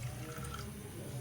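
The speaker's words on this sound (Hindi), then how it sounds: "इसके अंदर एक पानी लेना है और वो पानी इसके अंदर ऐड कर देना है" Water poured into sago pearls in a pot: a soft, steady trickling and splashing, faint and close, running continuously without speech.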